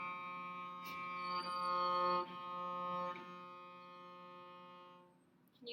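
A cello sounds F natural on the D string as one steady, quiet bowed note, held for about five seconds before it fades out.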